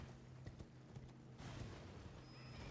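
Hooves clip-clop at a steady pace from a horse in the Elden Ring video game, soft and low under a faint ambient bed.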